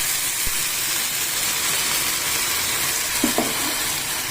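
Semolina poured into caramelized sugar and ghee sizzles in a hot pan with a steady, close frying hiss, while a couple of soft stirring scrapes sound near the end.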